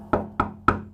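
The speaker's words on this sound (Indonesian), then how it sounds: "Gua ketok balik" Three sharp knocks on a glass partition in a hotel room, evenly spaced and close, each with a brief ringing decay.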